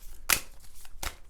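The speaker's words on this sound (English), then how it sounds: "So now I'm just going to shuffle these oracle cards" Oracle cards being shuffled by hand, two quick crisp riffling bursts close up in an otherwise quiet room.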